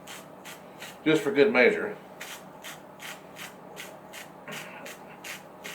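A grinder cranks out black pepper for a pot of hot Texas chili, a run of short, regular gritty grinding strokes under a man's brief speech.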